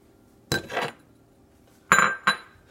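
Eggs crack against a bowl in a home kitchen: two hard taps with a clinking ring, then a short break and a lighter tap, close and clear in a quiet room.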